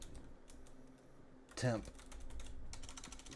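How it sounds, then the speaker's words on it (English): Keystrokes clatter on a computer keyboard during a Farming Simulator 22 session, a quick close burst of clicks amid quieter taps, with someone talking over it. "Get the fingers on the old keyboard the right way."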